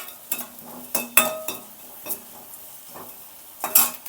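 Asafoetida lumps fry in oil over a slow flame with a soft sizzle, punctuated by several sharp clinks and scrapes of a spoon against the pan.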